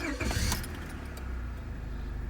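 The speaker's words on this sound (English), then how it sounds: "I will go ahead and start up the car real quick." A 1998 Honda Accord with over 221,000 miles starts up after a brief key jingle, the engine catching quickly and settling into a steady low idle, heard close.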